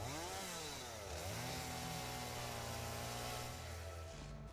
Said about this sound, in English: Back to chainsaw.